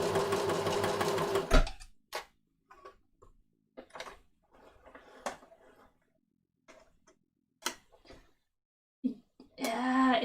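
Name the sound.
sewing machine stitching fabric for a kid's jacket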